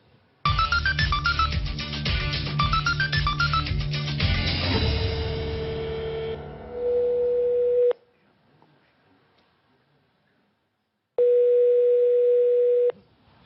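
A telephone line gives a steady dial tone interrupted by rapid dialing tones, then cuts to silence before a loud continuous tone returns, close and clear with no talk over it.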